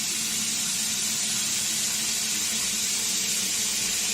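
Water gushes hard from a small tap onto a little turbine paddle wheel, a steady, loud, close hiss and splash that stays even throughout with no voices.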